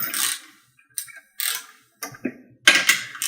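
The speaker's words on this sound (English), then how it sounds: "just go ahead and tighten these down to torque. Again, I like this ratcheting wrench" Ratcheting wrench tightening bolts to torque on a PowerBlock dip attachment: several short bursts of rapid clicking ratchet strokes separated by pauses, close and fairly loud, with no talking.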